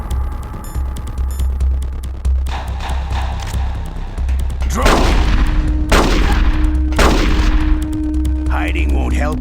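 Revolver shots in the video game Metal Gear Solid: The Twin Snakes, three loud sharp blasts about a second apart, each with a booming tail, over a low rumbling game soundtrack.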